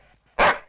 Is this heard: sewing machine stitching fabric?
no